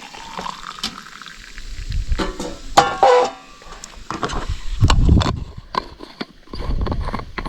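Just-boiled water poured into a thermos mug over pearl barley at a riverside fishing spot, with irregular splashing, clinks and handling bursts, fairly close and without talk.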